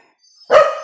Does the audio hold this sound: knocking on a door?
no